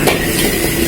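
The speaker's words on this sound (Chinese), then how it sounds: "然后下入韭菜和红辣椒，大火翻炒一下" Chives and red chili stir-fried over high heat in a wok, a loud, steady hissing sizzle with continuous rustling from tossing, no voices.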